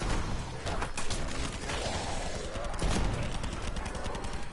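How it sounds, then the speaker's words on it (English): Rapid, continuous gunfire in a Call of Duty zombies match, dense machine-gun bursts and sharp repeated shots filling several seconds, loud and close, with mechanical clatter and no talk. "And shooting!"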